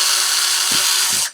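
A power drill bores guide holes for posts in a tabletop wargame terrain base, a loud continuous whine that holds steady, dips briefly twice, then cuts off at the end.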